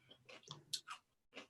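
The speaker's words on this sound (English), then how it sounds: "I hear somebody chewing." Someone chewing during an online city planning commission call, a few soft irregular mouth sounds over about a second, then a brief pause and one more chew, faint and close to the microphone.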